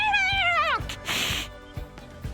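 A cat caterwauls as a sound effect, one long, loud, wavering yowl that slides downward, followed by a hissing burst and soft thumps.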